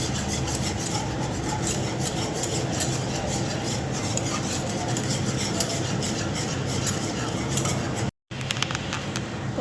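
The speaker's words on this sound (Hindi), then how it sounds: "और गैस वही है, स्लो है, तो इसे ऐसे चला चला के अच्छी तरह से गांठ नहीं पड़नी देनी है हमें।" White sauce is stirred in a pan over a slow gas flame, a steady, close scraping and rubbing of the utensil against the pan that continues without pause apart from one brief cut near the end.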